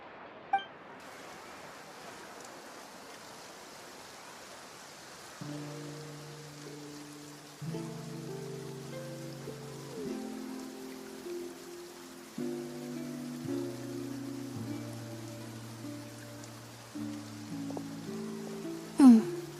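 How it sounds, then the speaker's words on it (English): Rain falls in the game Genshin Impact, a soft, steady patter that runs throughout under gentle, mellow music. "Looks like rain."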